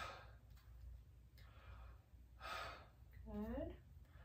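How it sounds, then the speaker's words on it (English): A patient taking deep breaths during a lung auscultation in a health assessment, faint soft inhales and exhales heard close up over a quiet hum, with a brief spoken voice near the end. "Deep breath for me."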